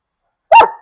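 A single sharp dog bark, close and loud, given on command during protection dog training, short and alone after silence.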